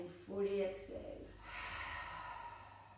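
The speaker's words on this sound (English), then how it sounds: "Open the mouth and fully exhale" A person voices a brief sound, then breathes out in a long, soft, airy exhale through an open mouth during a Kundalini yoga warm-up, close and steady before it fades.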